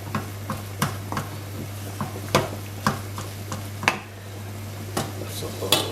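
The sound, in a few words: mixing cottage pie filling in a pan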